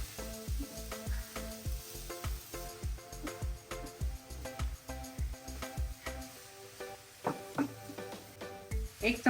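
Modak filling stirred in a hot pan, rhythmic spoon strokes and thuds against the pan repeating about twice a second over a faint sizzle, close by, with brief tones and a voice near the end.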